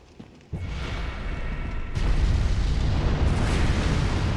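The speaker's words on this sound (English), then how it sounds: "why is it shooting fireballs at me?" Fireballs burst in a Bloodborne nightmare area, heard as a sudden loud boom that swells into a sustained roaring blast, growing louder after a second surge partway through, with no talk over it.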